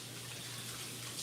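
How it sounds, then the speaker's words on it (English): Kitchen tap running as hands are washed, a short, steady hiss of water close by, moderately quiet and with no speech. "Let me wash my hands."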